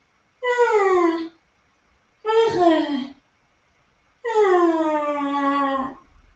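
Voices imitate a baby's small cries and coos, three drawn-out wailing, meow-like calls separated by brief silences, the last one longest, close and clear.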